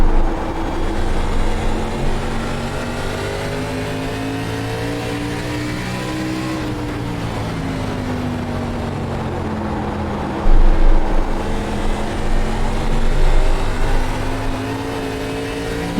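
Race car engines from an ARCA Menards Chevy Impala racing game drone steadily at high revs, pitch sweeping down and back up through a corner, then a louder surge of acceleration near the end.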